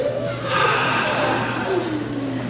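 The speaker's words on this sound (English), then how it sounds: "Everybody, I want you to take a nice deep breath in." A room full of people draws in a long, deep breath together, a broad airy inhale lasting a couple of seconds, loud and close, with no talking.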